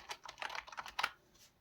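Typing on a computer keyboard, a quick irregular run of crisp key clicks close by, a few louder strikes, then trailing off into quiet.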